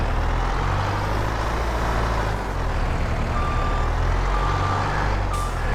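A vehicle backs up on gravel, its reversing alarm sounding a few clear repeated beeps over a loud, rumbling engine and crunching background noise.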